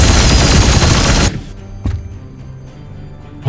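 Heavy gunfire in Warhammer 40K: Chaos Gate, a loud, dense burst of rapid shots pounding for over a second before cutting off sharply, followed by a few faint isolated clicks and thuds.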